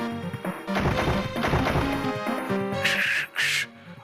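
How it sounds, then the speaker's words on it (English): Glass shattering in the video game Danganronpa 2 Goodbye Despair, a retro, low-fidelity crash made of a dense, noisy burst followed by two sharp, bright bursts near the end, loud and with no voices. "I heard the sound of glass breaking"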